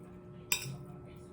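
A single bright clink as glasses touch in a toast, close and crisp, ringing briefly before fading into a quiet room hum.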